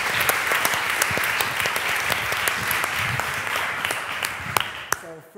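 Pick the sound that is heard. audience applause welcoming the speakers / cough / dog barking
audience applause welcoming the speakers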